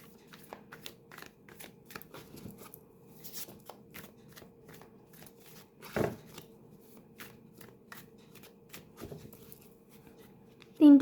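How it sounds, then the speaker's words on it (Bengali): Tarot cards shuffled by hand in quick, steady riffles and flicks, close and fairly quiet, with a couple of louder slaps and a brief sharp sound at the very end. "তিনটি কার্ড বার করব আমি"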